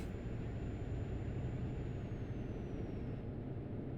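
Emergency panic braking of a truck in Euro Truck Simulator: a loud, steady rumble of engine and air brakes with a thin high tone sliding slowly downward.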